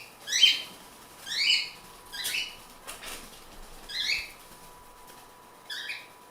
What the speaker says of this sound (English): I'm actually putting my birds away.